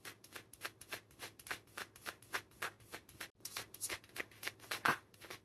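Tarot cards are shuffled briskly up close, a rapid, even run of papery riffles and flicks that keeps a steady rhythm for several seconds, with no voice.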